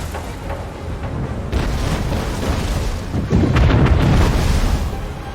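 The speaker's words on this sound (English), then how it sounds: "Raptoria, open fire. Give her the broadsides." Warship broadside cannon fire in Anno 1800, heavy booming rumbles rolling together into a loud, sustained barrage that swells stronger midway, with no talking.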